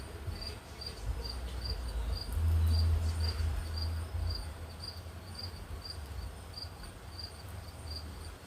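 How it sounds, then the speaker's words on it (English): A cricket chirps in a steady, evenly spaced pulse at moderate distance, continuing through the whole stretch over a low background rumble. "Do you hear that cricket?"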